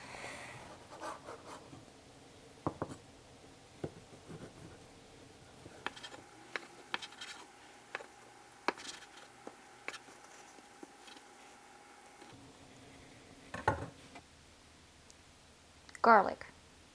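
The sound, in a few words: slicing rinsed ingredients with a knife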